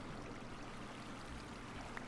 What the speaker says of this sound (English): It releases a water source on the top, as you can see,